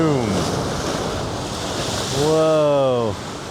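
Swells break as ocean waves at Knob Hill, a loud continuous wash of surf mixed with wind buffeting the microphone, with two rising whistling tones over the roar.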